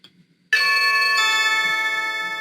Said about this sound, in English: my watch just said somebody is at your Blink video doorbell